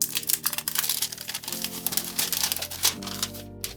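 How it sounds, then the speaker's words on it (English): Plastic protective film being peeled off the back of a Realme GT 2 Pro phone, a dense run of crinkling and crackling lasting several seconds, close and fairly loud over faint background music. "Let's see how it feels after I get the plastic off."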